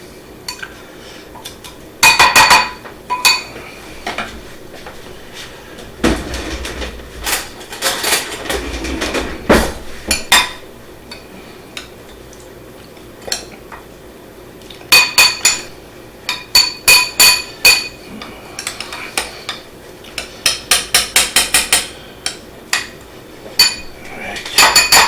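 Oyster liquid and breadcrumbs get mixed in a bowl, a spoon clinking and scraping against the dish in irregular bursts of sharp taps with quieter stirring between.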